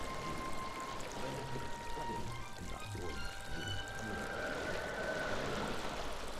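Leaking water in the ghost-haunting game Ghost Master, a continuous quiet pouring stream that splashes and trickles evenly throughout.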